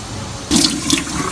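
Mutton pieces for kacchi biryani are rinsed one by one under water. A quiet start gives way to loud, close running and splashing water that continues to the end, with no speech.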